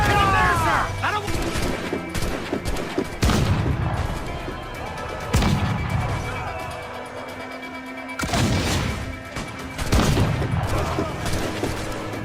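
Heavy ship cannon broadsides in the naval game Assassin's Creed 4 Black Flag, loud repeated booms and crashing impacts at irregular intervals, with shouting crew voices mixed in among the volleys.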